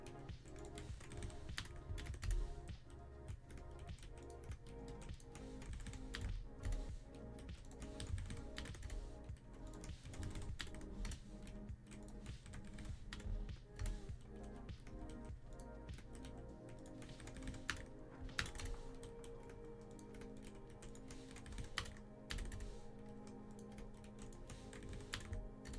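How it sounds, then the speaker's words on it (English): A computer keyboard clatters close to a microphone during a live Minecraft redstone stream, with dense, uneven bursts of key presses continuing throughout and no talking. "my keyboard is going off in the mic"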